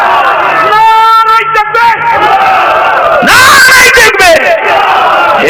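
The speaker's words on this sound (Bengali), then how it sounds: "জোরে তাকবীর দেন না" A large crowd roars the takbir together at a religious sermon gathering, loud massed shouting voices rising in swelling waves, with a short pause before a second, even louder collective shout.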